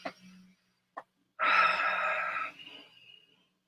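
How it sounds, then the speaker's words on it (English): Deep breathing during a guided meditation: a short breath, a brief pause, then a long audible exhale that trails off softly, close to the microphone with no talking. "deep breathing, just keep breathing"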